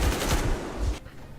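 Gunfire from a weapon in the video game Metro Exodus, set in Moscow: a loud, dense burst of rapid shots for about a second, then an abrupt stop leaving a quieter tail.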